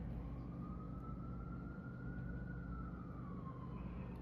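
An emergency vehicle siren passing outside a residence, one long slow wail that rises and then falls, faint and distant beneath a steady low traffic rumble.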